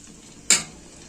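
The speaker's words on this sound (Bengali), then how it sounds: "তো আমি দিচ্ছি আর নাড়াচ্ছি।" A spoon scrapes once, sharp and close, against a pan as herbal hair oil ingredients are stirred, with a soft sizzle trailing off afterward and no voices.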